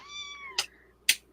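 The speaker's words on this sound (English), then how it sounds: "I hear a meow." A cat gives one drawn-out, falling meow followed by two short sharp noises, all close and fairly loud.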